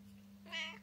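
A pet cat gives one quiet, short meow close by against a low steady hum, with no one talking.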